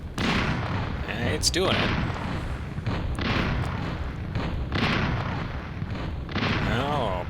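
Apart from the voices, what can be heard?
gun turret firing in video game Flexbox Defense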